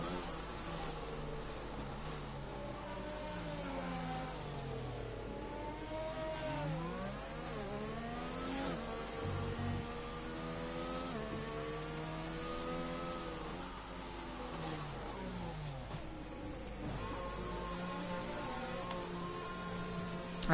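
Formula racing cars lapping the Vietnam GP circuit in a racing video game, a Ferrari among them, engines whining continuously with rising and falling pitch as they accelerate and shift, steady and moderately loud throughout.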